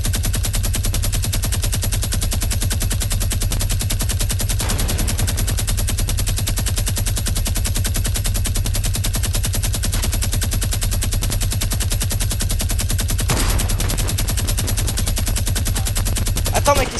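Rapid, steady automatic gunfire in the Fortnite video game, loud and continuous throughout, with a player's voice occasionally heard over it.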